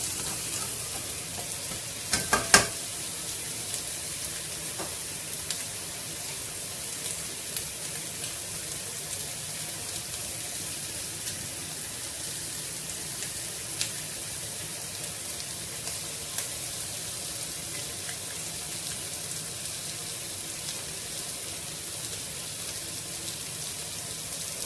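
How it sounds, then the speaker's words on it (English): Fish bones and a fish head charring in a pot give a steady, loud sizzle and crackle throughout, with a brief sharp clatter near the start and no talking. "Let the fish bone and the fish head char a little bit."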